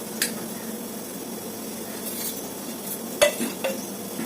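Batter hits hot sunflower oil and fries with a steady, soft sizzling hiss, broken by a couple of light clinks of a utensil against the pan.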